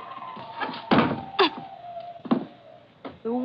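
A closet door swinging shut with a dull thunk in a radio drama scene, preceded by shuffling and bumping thuds, all fairly close with no talk.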